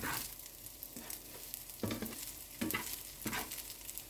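Fried rice with chili being stirred in a hot pan, with repeated scraping strokes of the utensil over a steady sizzle, close and fairly loud, with no talk.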